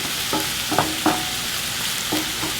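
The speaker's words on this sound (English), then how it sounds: "he is sauteing the leeks and onion" Leeks and onion sautéing in a pan, a steady close sizzle broken by a few scraping stirs of a utensil spaced across the moment, no voices.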